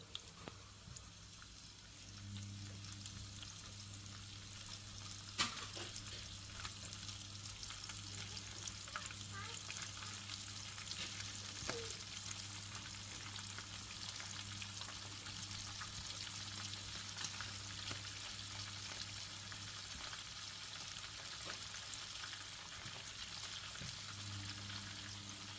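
Small calamari frying in oil, a steady close bubbling sizzle that holds continuously with occasional crisp pops.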